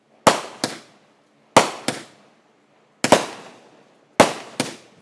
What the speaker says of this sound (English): I didn't know they were actually fireworks.